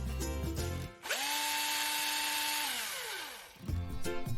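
A dentist's drill whines in a dentist's office, a single steady high-pitched electric whir lasting a few seconds that starts abruptly, slowly drops in pitch as it winds down and stops, loud and close.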